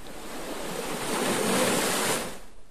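Broadband wash of ocean surf opening a music track, a steady roar that swells toward the middle and then eases off, with no other sounds over it.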